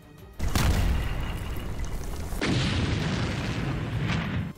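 Bombs explode on Kurdish fighters' positions during a military operation in northern Syria: two heavy, booming blasts about two seconds apart, each trailing into a long rumbling roar, loud and without speech.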